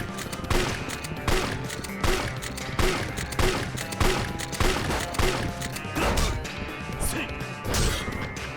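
Gunfire in Yakuza 4 Remastered, a relentless barrage of loud, close shots and crashing impacts packed densely together, with brief lulls between bursts.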